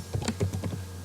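Quick bursts of keystrokes on a computer keyboard as a username is entered at a login prompt, close and fairly quiet, with no voices.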